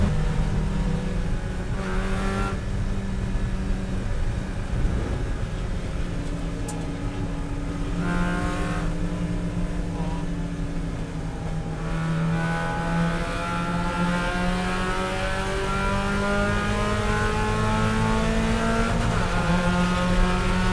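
Several Spec Miata race cars at Virginia International Raceway roar steadily for about twenty seconds, engine notes rising and falling through gear changes as they pass at close to moderate distance, with no talk over them.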